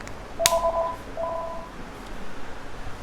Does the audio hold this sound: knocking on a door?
no